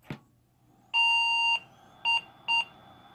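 A Gateway 2000 P5-90 desktop, running a P5-133XL motherboard, sounds its error code because no VGA cable is connected: one long electronic beep and then two short ones, clear and steady, after a faint click.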